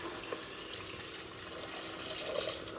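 Hot water is poured into a pan of frying onions for Algerian couscous, making a steady hissing, splashing pour that runs continuously at moderate volume.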